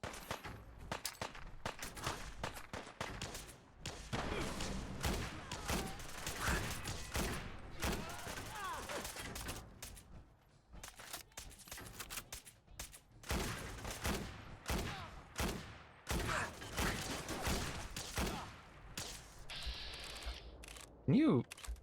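Gunfire in the Destiny video game, with rapid bursts of shots crackling in long volleys, brief pauses and mechanical clicks, fairly faint overall, and people talking intermittently between the shots.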